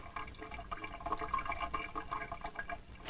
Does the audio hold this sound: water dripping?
yes